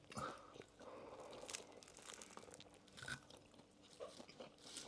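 Biting and chewing into a ploughman's sandwich with soft bread and a firm crust, loaded with mustard, piccalilli and Branston: close, crunchy bites and tearing with wet chewing, steady throughout, no talking.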